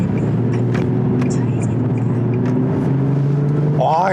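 A Nissan 370Z's naturally aspirated engine hums steadily at cruising speed during a drive from Daegu toward Cheongju, a low continuous drone with a brief rising rev near the end, heard beneath someone talking.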